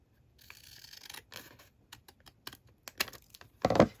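Scissors snipping off the top of a paper bag, a series of crisp irregular clicks and crunches, close and fairly quiet, ending in a louder rustling crinkle of paper.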